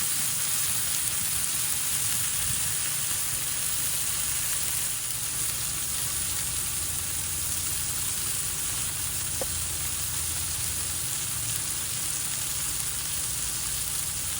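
Smash burger patties sizzle steadily on a Blackstone griddle at a camp cookout, a continuous loud hiss of frying with one faint clink partway through and no voices.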